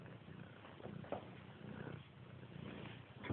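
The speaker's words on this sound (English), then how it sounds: "Little Kitty's over here" A pet cat purrs beside a running wood heater, a faint, steady, rumbling purr close by in a quiet room.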